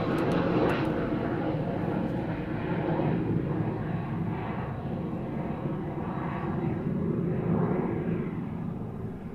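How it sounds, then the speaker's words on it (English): A Beechcraft Premier small business jet takes off from East Midlands Airport, a steady, broad engine roar and rumble holding loud throughout with no voices over it. "Very tiny jet making its way from East Midlands"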